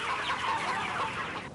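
Several thousand hens on a traditional farm in the Ardèche, France, clucking together as a dense, continuous chorus at moderate loudness, with no talking over it.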